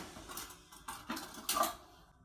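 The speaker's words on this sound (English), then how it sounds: "I'm gonna get a kitchen knife." A kitchen knife is pulled from among cutlery, a few light metallic clinks and clatters, close and fairly quiet, spaced unevenly.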